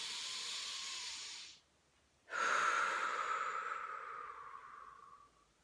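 A slow, deep breath during a calm EFT tapping session: a long, airy inhale, a short silent pause, then a longer, softer exhale that fades away. Close and clear, with no talking.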